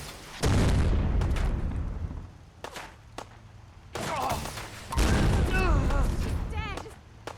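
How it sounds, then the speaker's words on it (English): Video game gunfire crackles in rapid bursts and single loud shots, with heavy booms and steady firing through most of the stretch as people talk over it. "Keep firing."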